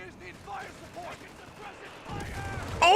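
An artillery shell strikes in a Company of Heroes 3 tournament match. It lands as a sharp broadband blast about two-thirds through, with a second crack at the very end, over excited commentators' voices and battlefield clatter.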